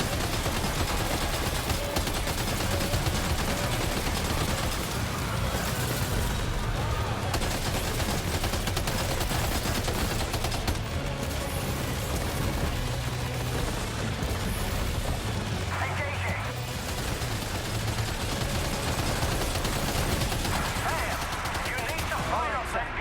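Sentry guns in the video game Death Stranding 2 fire nonstop in dense, loud bursts of rapid gunfire and booms, blended into a continuous wall of combat noise that lasts the whole stretch.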